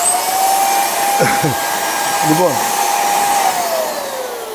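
A handheld vacuum cleaner with several attachments runs steadily with a high whine throughout, loud and close, while someone speaks briefly over it.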